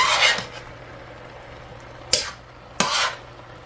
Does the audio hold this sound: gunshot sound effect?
no